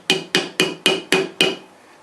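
Six evenly spaced sharp hammer blows ring out as a piece is tapped into a matrix mold, each strike bright and metallic, close and alone.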